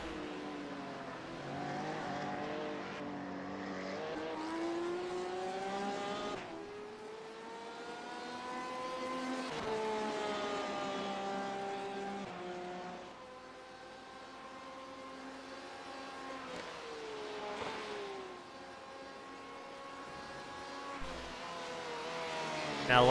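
Race cars drone and rev continuously around Suzuka Circuit in a sim racing game, engines rising and falling through gear changes as several cars pass, loud and steady with no speech.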